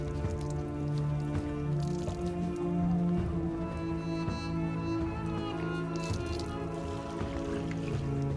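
Water splashes and drips steadily during the obligatory ablution ritual at the Arystanbab mausoleum, a continuous patter with a steady tonal hum underneath and no speech.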